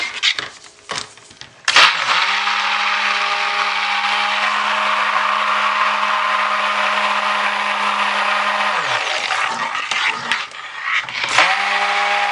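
Stick blender whirring steadily through a mango butter soap base, a loud continuous motor drone that starts abruptly, runs for several seconds, then cuts off, with brief clatter before and after.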